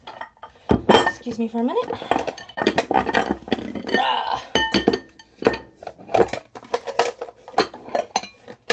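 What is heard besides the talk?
bowls clinking as they are pulled apart and put away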